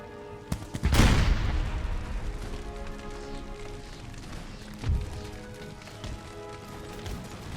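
A volley of gunfire in a video game battle between massed armies: a loud crackling burst at the start decays into a long rumbling tail. A second, smaller report follows later, along with faint scattered shots.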